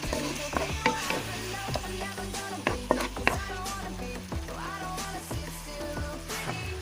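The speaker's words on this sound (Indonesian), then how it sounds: "Kita aduk semua bahan." Ground chili, chopped tomato and other ingredients sizzling in a frying pan while being stirred, with close scraping and clinking strokes of a utensil over a steady fry.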